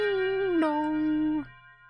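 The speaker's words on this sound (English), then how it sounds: "A bell rings far away." A distant funeral bell sound effect in a visual novel rings a sustained two-note ding-dong, the second note lower and held before it cuts off, then fades into quiet.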